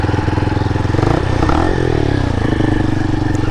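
A motorcycle idles loud and close with a rapid thumping engine pulse, and the revs rise and shift as the bike pulls away.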